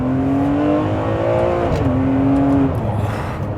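A Ferrari 599 V12 supercar with an Enzo-derived engine accelerates hard, its loud, steady engine note climbing in pitch, dropping briefly at a gear change and then pulling again, close and continuous.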